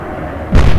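A single heavy naval gun shot in the warship game Atlantic Fleet, a sudden deep boom that follows a low background rumble and rings out loud and near.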